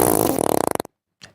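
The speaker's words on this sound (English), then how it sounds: "everything turns into a fart" A comic fart sound effect: a rapid, sputtering series of pulses slowing toward the end, followed by silence and then one short extra puff.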